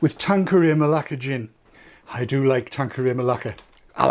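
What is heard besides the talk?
No everyday noises stand out.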